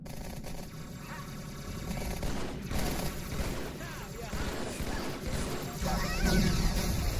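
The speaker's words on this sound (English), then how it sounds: "Stop shooting me!" Chaotic Halo 2 battle gunfire on Legendary difficulty, rapid bursts of shots and crashing impacts layered over a dense, loud game soundscape with no clear pauses.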